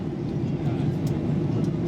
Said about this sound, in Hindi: उसके भी ऊपर से उड़ रहा है विमान।